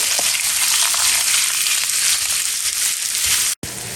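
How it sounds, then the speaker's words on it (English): Onions go into a hot pan after batches of chicken and fry with a loud, steady sizzle. The sound breaks off once for an instant, then continues. "going in with the onions"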